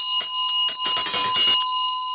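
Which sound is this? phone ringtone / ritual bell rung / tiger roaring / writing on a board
ritual bell rung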